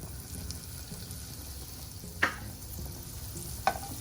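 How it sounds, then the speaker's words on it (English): Finely chopped half onion sautéing in half a tablespoon of butter on a heated pan, a soft steady sizzle with two sharp clicks of a utensil stirring against the pan. "Add chopped onions and saute until they are very soft and browned"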